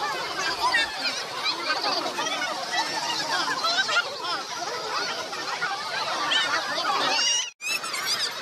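Ducks and geese at the Mumbai zoo call in a dense, continuous chorus of honks and quacks from many birds at once, with crowd chatter mixed in throughout.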